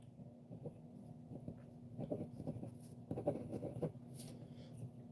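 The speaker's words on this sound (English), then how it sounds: "I'll write your name down, too," Pen scratching on paper while a name is written down: faint, irregular scribbling strokes in short bursts over a low steady hum, close to the microphone, with no talk.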